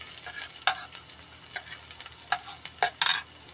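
Garlic sizzles in hot cooking oil as a utensil stirs it, a continuous close frying hiss broken by several sharp scraping clacks.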